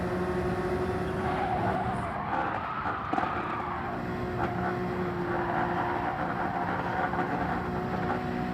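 Honda NSX race car in Gran Turismo 7 with tires squealing and skidding under hard cornering, a steady loud screech over continuous engine roar throughout.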